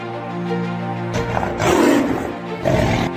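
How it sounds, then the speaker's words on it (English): A tiger roars in a forest while fighting fiercely to protect its territory, a loud sustained growling roar that swells in two surges over a low rumbling bed. "tiger's roar echoes through the forest as it fights fiercely to protect its territory."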